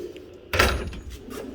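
A drawer on a tool box holding sockets and Harbor Freight ratchets slides open in a single loud thunk, with a short rattle that fades out.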